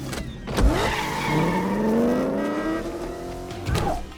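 A car's handbrake turn into a 180: engine rising and tires squealing in long sliding tones over about four seconds, with sharp thumps at the start and end, loud and close, no talking.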